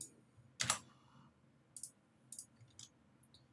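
Keystrokes on a computer keyboard at a desk: one loud burst of clicks, then several short, sparse taps in an uneven rhythm, close and fairly quiet, with no voices.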